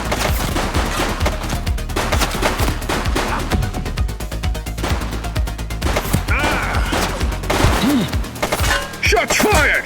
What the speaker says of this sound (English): Shots fired!